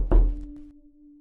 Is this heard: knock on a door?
yes